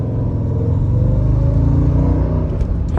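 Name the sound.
2004 Mercedes E55 AMG drifting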